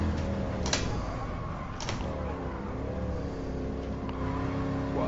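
Car engine in Gran Turismo Sport revving and shifting, with a steady engine note interrupted by a few brief bursts as gears change, heard at moderate level without talk.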